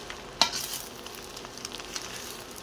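A utensil scrapes and stirs fried rice in a pan, one sharp clack of metal at the start followed by soft, scattered scraping and faint sizzling, quiet and alone.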